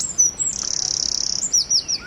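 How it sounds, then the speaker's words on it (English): A bird sings outdoors nearby: high clear chirps, then a fast buzzing trill, then more quick tweets, loud and close against quiet surroundings with no talk. "Listen to that bird of me"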